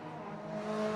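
A BMW M2 racing car runs at Croft during a club enduro race, its engine tone rising steadily as it approaches and passes in a single loud, close sweep lasting about a second.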